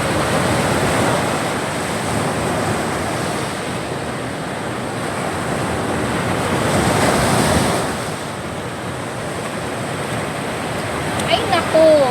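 Sea waves wash onto the shore, a loud continuous roar that swells and eases, with wind buffeting the microphone. There is no clear speech, and a brief sharp sound comes near the end.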